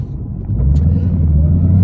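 A 2011 Ford Mustang GT driving in Eco throttle mode, with a deep, steady engine rumble from inside the cabin that swells slightly and stays smooth, without revving.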